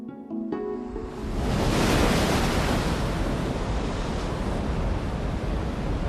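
Sea waves roar and foam at the shore, a dense, steady wash of surf that swells loud after a brief quieter start and holds a continuous roar with wind noise.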